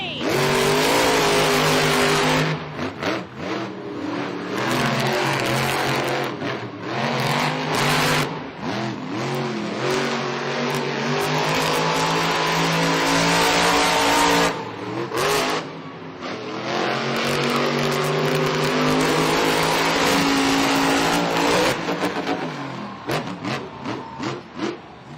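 Grave Digger and other monster trucks race at a Monster Jam stadium event in San Diego, their engines roaring and revving loudly and continuously, rising and falling in pitch through the run.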